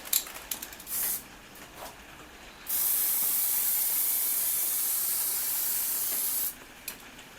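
Long steady hiss of a spray gun coating car bumper rubbing strips, a near continuous blast lasting several seconds with shorter bursts before and after, no talk.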